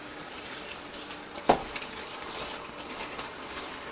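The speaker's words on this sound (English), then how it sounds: "And then what you do, you wash the veg." Kitchen tap water runs steadily into a sink while vegetables such as carrots are washed under it, a close hiss with a brief splash partway through and no talk.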